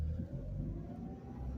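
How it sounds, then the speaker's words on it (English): A manual stick-shift car pulls away from a parking spot, its engine holding a steady low rumble with a slight rise in revs as the clutch engages, close and fairly quiet with no talking. "Now, give it a tiny bit of gas. Slowly let off the clutch pedal."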